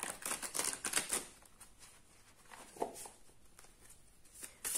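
Tarot cards are shuffled by hand in a run of quick, crisp riffling clicks that gradually thin out, soft and close-up with no speech over them.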